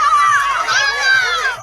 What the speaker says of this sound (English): A packed McDonald Jones Stadium coming alive as the home side secured back-to-back finals berths